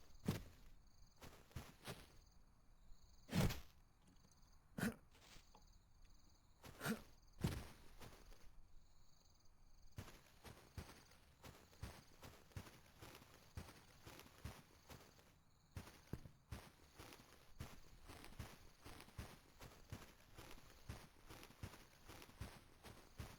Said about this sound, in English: I think I heard footsteps just before.